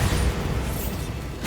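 A Bombarda spell explosion in the Hogwarts Legacy video game, a dense, loud booming blast that fills the whole moment with rumble and crackle and holds steady throughout.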